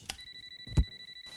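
A telephone gives two brief ringing bursts with a steady electronic tone, moderately loud and close, in a quiet room with no one speaking.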